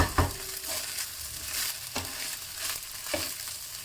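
Prawns and fish cake stir-fried for laksa fried rice, a steady close sizzle with repeated scraping strokes of a spatula across the pan, no talking.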